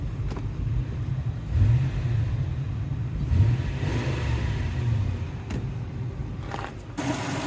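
A Toyota Tundra's 2UZ-FE V8, which has a snapped timing belt, idles steadily with a rough rumble and an odd pulley-like whine running throughout, with a few brief clunks.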